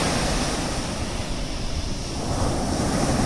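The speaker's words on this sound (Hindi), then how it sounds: "ये समुद्र का लहर उठते रहता है" Sea waves roll and wash in a continuous broad roar, with a slight swell toward the end and some wind noise mixed in.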